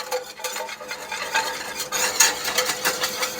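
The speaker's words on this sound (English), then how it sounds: "Your secret right here to gravies and all kinds of things is mixing your flour and your butter" Flour and butter mixed in a pan over heat for a sauce: continuous close scraping and stirring strokes with a soft sizzle beneath, steady and moderately loud, no voices.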